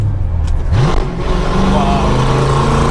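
A 1966 Ford Mustang engine blips and revs up and down in quick, moderate pulses, heard from close by, with a deep rumble underneath and people talking over it.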